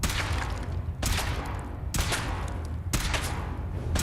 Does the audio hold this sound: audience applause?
no